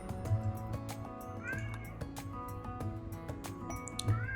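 Cat meowing within a Rimworld colony game, short mewing calls rising over steady game music with soft dripping and squishy effects, no talking.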